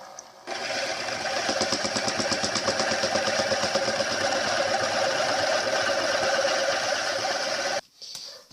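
A small drilling machine widening a hole in a workpiece, freshly oiled after stalling, runs steadily with a dense rapid rattling whir for about seven seconds, then cuts off abruptly near the end.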